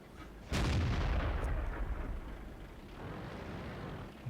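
The Nashorn tank destroyer's gun fires once in World of Tanks, a sudden heavy boom followed by a long rumbling decay, with faint battle noise lingering afterward.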